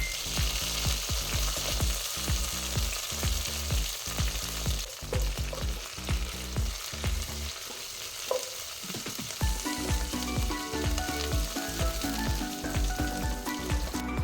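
Coconut pieces, dried chillies and curry leaves sizzle steadily in hot oil for a Kerala-style beef varattiyathu, with occasional stirring clicks and scrapes over a constant crackling frying hiss.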